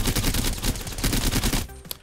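Havoc energy rifle from Apex Legends fires in a loud, sustained automatic burst of rapid shots that cuts off abruptly near the end, followed by a short mechanical tail.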